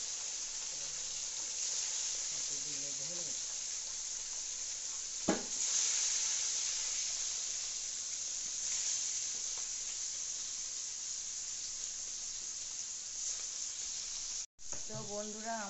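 Steady broadband sizzle of food frying in a pan during home cooking for a household cooking puja, continuous and fairly close, with brief stirring clatter and faint voices in the background.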